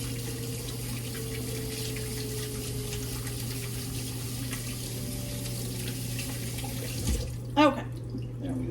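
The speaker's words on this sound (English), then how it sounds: "let me wash off my hands real quick" Steady water runs from a kitchen tap into a sink for hands being washed, a continuous close rush that ends abruptly near the close, followed by a brief clatter.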